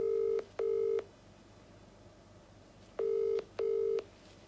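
A phone call rings out with a repeating ringback tone: two steady electronic bursts, a pause of about two seconds, then two more, heard clearly over a quiet line with no voices.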